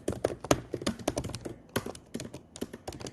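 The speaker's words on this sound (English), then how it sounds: "I'm navigating around with my keyboard, with my touchpad. I'm double clicking one of the cells." A laptop computer keyboard and touchpad, tapped and clicked in quick, irregular bursts of close, crisp keystrokes and clicks with brief pauses between them, and no talk.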